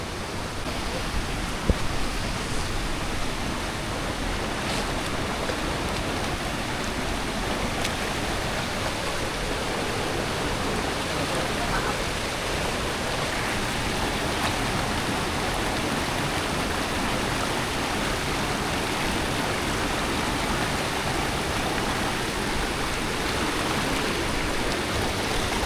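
The second tier of a waterfall pours in a steady, dense roar that holds constant throughout, loud and close with no letup.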